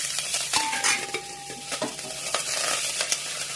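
Green chilies, mustard seeds and curry leaves sizzle and crackle in a hot pan with stirring scrapes and small pops, a steady close frying hiss with no voices.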